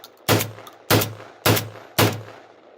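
A Kalashnikov USA Komrad 12 shotgun, fitted with a light load kit, fires four loud, close shots at a steady pace about half a second apart, each with a short ringing decay.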